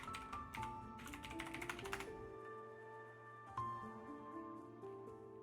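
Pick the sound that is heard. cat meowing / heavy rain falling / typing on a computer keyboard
typing on a computer keyboard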